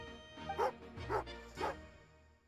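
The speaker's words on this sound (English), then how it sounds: "It's a dog." A dog in the video game Genshin Impact barks three times at an even rhythm, moderately loud against a soft continuous background music bed.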